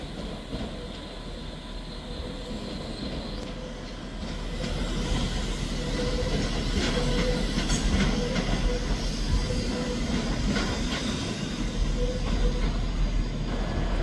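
Class 397 unit 397008 for Manchester Airport at Edinburgh Waverley station, a steady rumble of train and station noise that swells after a few seconds and holds, with faint wheel squeal and clanks throughout.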